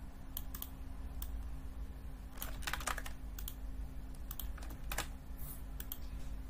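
A business address being typed on a computer keyboard: irregular clusters of fairly quiet keystroke clicks over a steady low hum, with short pauses between bursts.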